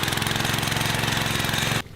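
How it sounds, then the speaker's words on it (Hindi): A small hill tractor of the kind used to level fields in a village runs with a loud, steady, rapid chugging close by, then cuts off abruptly just before the end. "अब हम चलाएंगे ये ट्रैक्टर"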